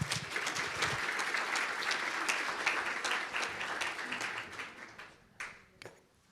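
An audience applauds at a talk to welcome a speaker, a full burst of clapping that holds steady for about five seconds, then thins out to a few scattered last claps.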